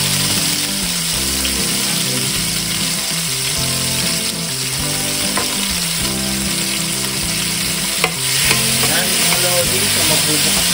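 Beef adobo frying in a pan with oil and minced garlic gives a loud, steady sizzle throughout, with stirring and a brief clatter near the end.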